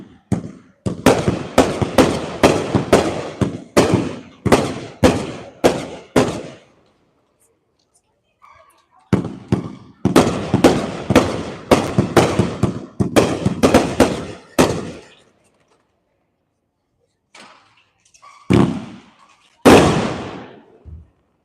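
A 25-shot multicolor rainbow firework cake fires at a demo night in Indiana, two rapid volleys of crisp, loud bursts in quick rhythmic succession separated by a pause, followed by a few scattered trailing pops, with some talk in the background.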